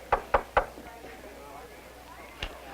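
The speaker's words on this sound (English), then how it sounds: "Who'd be knocking at the door of the teacher's lounge?" Three quick firm knocks on the teachers' lounge door, close and distinct, followed a moment later by one softer knock, with a quiet room tone between.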